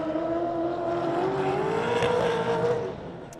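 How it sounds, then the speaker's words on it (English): A Gen 3 Supercar lapping Sydney International Speedway, its engine a steady sustained roar with a slowly rising pitch that holds for about three seconds before easing off, no voices over it. "Gen 3 Supercar doing laps in Sydney."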